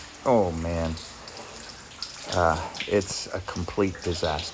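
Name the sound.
floodwater flowing up into a shelter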